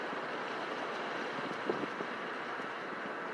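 Steady wind blowing outdoors, a soft continuous rush with a few faint bumps of buffeting against the microphone, no voices heard.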